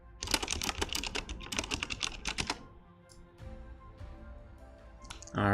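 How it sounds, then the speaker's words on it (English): A clacking mechanical computer keyboard is typed on in rapid, close bursts for about two and a half seconds, then falls to a few quieter, scattered key sounds. No one speaks. "Apologize for the clankiness of the mechanical keyboard"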